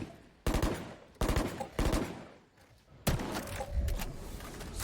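Gunfire in a Valorant match on the Lotus map, sharp loud bursts at roughly half-second to one-second intervals, the last burst trailing into a longer, sustained volley.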